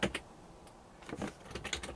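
Quiet clicks of computer keyboard keys while playing King's Quest I, a few short bursts of typing separated by a pause, close and soft with no talk.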